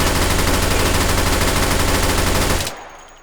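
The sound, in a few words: rapid automatic fire from drum-fed AUG rifle in video game H3VR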